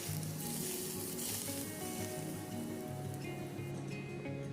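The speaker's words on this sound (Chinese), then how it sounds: "这时候我们煮一点热油，把热油淋在上面" Hot oil poured over a prepared Chinese dish topped with Sichuan peppercorns and sesame seeds, giving a steady, loud, close sizzle that crackles evenly throughout, with no voices.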